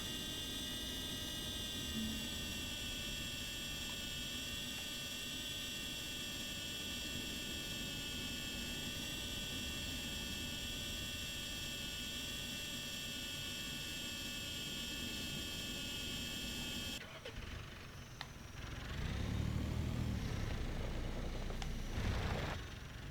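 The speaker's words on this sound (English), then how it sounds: "Okay, we'll activate the drone then." A steady droning whine with layered tonal hum holds evenly for a long stretch from a drone in a video game simulator, then cuts abruptly to a muffled rumble near the end.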